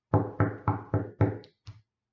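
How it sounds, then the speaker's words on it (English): A dragon raps on a house door with his talon: five firm, evenly spaced knocks, close and loud, followed by a softer sixth knock after a short pause. "he knocked on the door"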